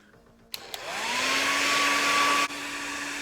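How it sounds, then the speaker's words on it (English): A hair dryer clicks on and whirs up to a steady, loud, close blowing roar with a rising motor whine, then clicks as its setting changes and keeps running. "Sometimes I need to dry my hair."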